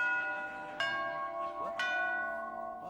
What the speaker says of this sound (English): that could well be the last time that the front doorbell of this old house rings this series